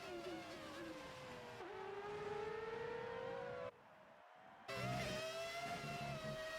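Classic race cars in an Xbox racing game scream around a track with high, siren-like engine tones that rise and fall through gear changes, cutting out briefly before roaring back loud.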